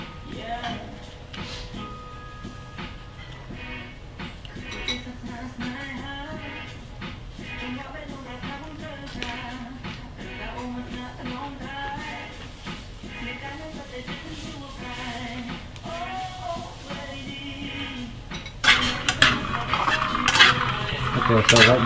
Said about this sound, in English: roasting the peanuts